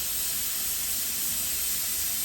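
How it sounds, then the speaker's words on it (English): A steady stream of steam hisses without a break from the vent pipe of a pressure canner heating beef, loud, broad and continuous with no voices. "we've got pretty much a steady stream of steam coming out of that vent pipe"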